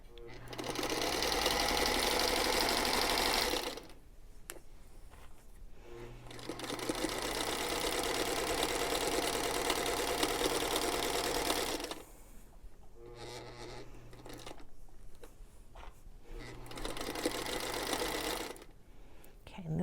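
A sewing machine stitches pieced quilt fabric in three long steady runs of rapid mechanical whirring, close and fairly loud, with short pauses between them.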